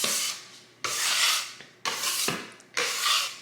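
A dough scraper rasps across a kitchen counter scraping up sourdough dough, in four separate close, dry strokes with short pauses between.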